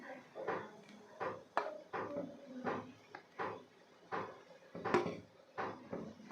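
Boiled eggs are dropped into simmering curry gravy in a pan, producing a close series of soft clunks and plops that arrive roughly every half second.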